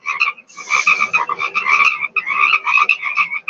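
A chorus of frogs croaking in dense, rapid pulsing bursts, loud and close, with a brief gap before the racket resumes; no voices.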